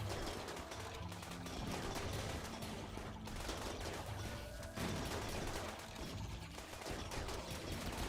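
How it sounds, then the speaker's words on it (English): Rapid bursts of gunfire from a RimWorld colony battle crackle steadily and densely over a busy game soundscape, with volleys overlapping for several seconds and no speech. "A little shooting practice."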